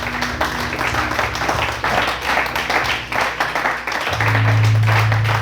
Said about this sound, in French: Quelqu'un acclame le Seigneur ici là.